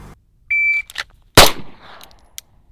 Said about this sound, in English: And then some single shots from the holster for time.